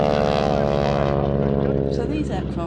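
Display aircraft flying in formation at an air festival give a loud, continuous drone of propeller engines with a slowly shifting pitch, while a person talks over it.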